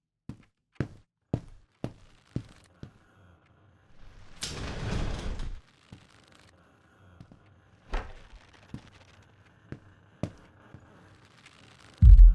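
A door is opened in a found-footage ghost hunting video game: a run of sharp taps and footsteps, then a drawn-out scraping creak of the door sliding open, followed by further scattered steps and knocks.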